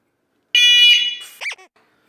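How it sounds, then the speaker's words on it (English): An electronic bike horn bought from Temu lets out a loud, shrill synthetic tone lasting about a second, then falls into a couple of shorter warbling chirps before cutting to silence, close and piercing. "It is also a bike horn, but this one is electronic."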